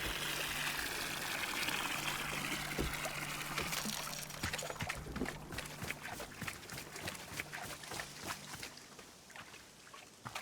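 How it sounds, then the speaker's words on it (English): Trees are watered in the video game Wanderstop: a steady pouring and trickling stream of water runs for several seconds, then thins into sparser splashes and drips as it tapers off. "I'm just gonna water the trees just so that we don't have to do that later."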